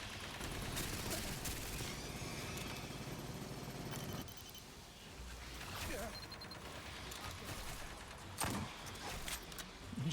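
Gunfire in the video game Aliens: Fireteam Elite, a dense continuous barrage of shots with a few louder bursts, with game noise and a voice talking over it.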